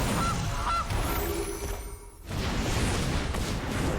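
A cartoonish goose honk plays in the MTG Arena digital card game as the Golden Goose card is cast, sounding loud and close over continuous game effects and background music.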